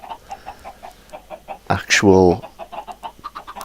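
Chickens clucking in Minecraft, a short burst of bird calls mid-clip amid soft repeated game sounds, with a person talking briefly.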